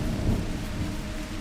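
Thunder rolling under steady heavy rain, a deep continuous rumble swelling and fading beneath a dense hiss of falling water, with no voices.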